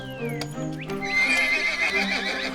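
Hooves clip-clop steadily, then a horse lets out a loud, shrill whinny that wavers and trails off while the hoofbeats keep going, close by and clear with no voices.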